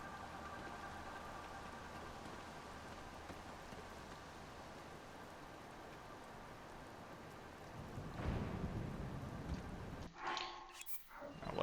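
Steady rain pours through a thunderstorm in Zelda: Tears of the Kingdom, with a deep thunder rumble swelling near the end followed by a sharp crack, and no voices.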